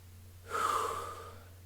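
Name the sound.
heavy breathing, out of breath after exercise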